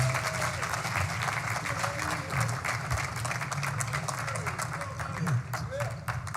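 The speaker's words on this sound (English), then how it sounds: "So please give Steve a hand." Applause from a conference audience welcoming speaker Steve Perry at RAADFest 2022, a dense, sustained burst of many hands clapping filling the hall, with some voices mixed in.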